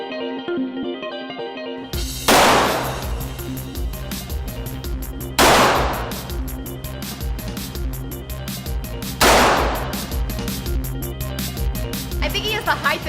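Three loud, sharp gunshots from a Ruger Mark III heavy-barrel target pistol with adjustable sights ring out at a shooting range, spaced a few seconds apart, each with a short echoing tail over steady background noise.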